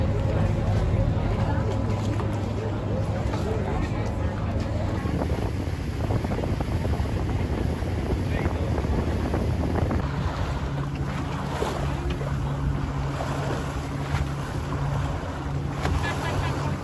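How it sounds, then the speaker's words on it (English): A speedboat runs at speed on open sea out of Cartagena, a continuous loud engine roar mixed with rushing wind buffeting the microphone and splashing waves, steady for the whole stretch. "It's a 2-hour speedboat ride from Cartagena."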